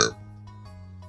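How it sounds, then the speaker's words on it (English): A loud, short burp from the fighting video game Sifu bursts out at the start, then fades into a steady low game hum and faint tones. "That is some stinky burp breath, dude."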